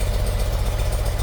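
A 1977 BMW R75/7 motorcycle engine idles close by, a loud, even low-pitched thrum with a steady pulsing beat and no talk.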